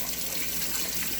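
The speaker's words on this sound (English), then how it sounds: "Let me just wash my hands here." Tap water runs in a steady, close hiss while someone washes their hands at a sink.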